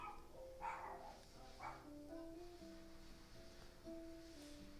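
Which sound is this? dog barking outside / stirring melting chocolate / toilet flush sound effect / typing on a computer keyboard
dog barking outside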